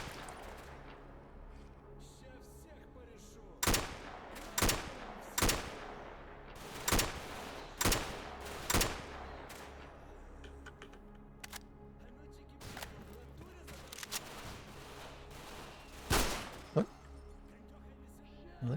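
Gunfire from enemies in the video game Dead Air Survival: a series of sharp, separate shots, loud and near, spaced irregularly across the stretch with quieter gaps and some fainter shots between.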